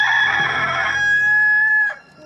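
A rooster crows loudly and close by in one long call that rises, holds a steady note and then breaks off, heard as part of a dramatized Bible scene.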